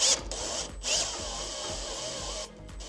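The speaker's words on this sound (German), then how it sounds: "Wir haben jetzt auf dieser Seite 3 Schrauben gesetzt" A power screwdriver whirs steadily as screws are driven through standing seam metal ridge flashing on a roof, with short high bursts at the start and near one second, then a sustained drone that eases off toward the end.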